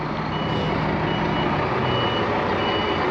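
A truck backs up on a dirt haul road at a land bridge project, its backup alarm beeping steadily in a regular rhythm over a constant diesel engine drone, close and loud, with no talk.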